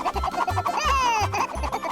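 A shy little cartoon chick from the Molang series lets out a high, bright peep that slides downward, heard once over a bouncy musical backing with a steady low beat.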